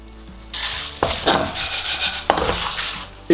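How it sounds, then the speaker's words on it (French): Rice grains hit hot olive oil in a pan with a sudden loud sizzle that holds steady, broken by a couple of sharp stirring knocks against the pan, close and with no voices. "Quand l'huile est bien chaude, on va mettre le riz à l'intérieur pour le nacrer."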